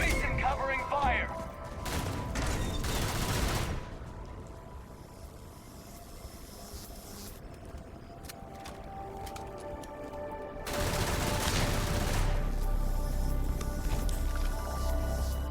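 Video game firefight in a snowy setting: dense bursts of rapid gunfire open the clip, fade into a quieter stretch of low rumble and clatter, then return as another loud volley near the end.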